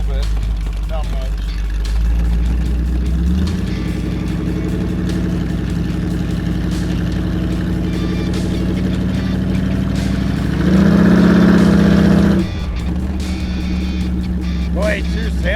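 A 1956 GMC CTR-33 fire truck engine runs steadily with a low, even drone, swelling louder for a moment near the end, while people talk over it from inside the cab.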